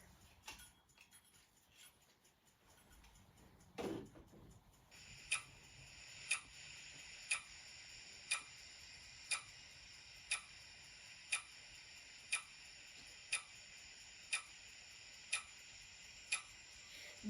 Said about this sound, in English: Now I'll set the timer